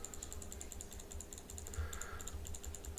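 Rapid computer mouse clicking during a live Call of Duty game session, a steady stream of small dry clicks in quick irregular succession, close and moderately loud with no voices.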